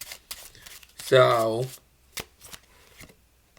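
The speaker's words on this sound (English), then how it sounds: "8 of Hearts with a false overhand shuffle" Playing cards snap and riffle in a quick series of crisp ticks and clicks during a false overhand shuffle, close and dry, with someone speaking briefly over them.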